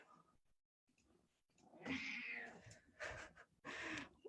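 Zelda, a pet cat, lets out a few drawn-out meows close by, one long call followed by two shorter ones with brief pauses between.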